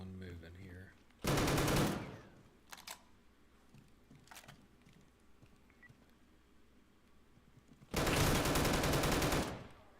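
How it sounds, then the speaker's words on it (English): Shotgun fire in the survival shooter Deadside: two loud, harsh blasts several seconds apart, each with a booming, noisy tail, with a few faint clicks and handling sounds between them. "That shotgun blast absolutely hurts at close range."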